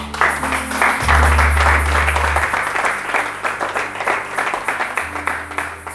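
A church congregation applauds and cheers for the Lord during a sermon, steady dense clapping filling the space for several seconds, with a low rumble underneath.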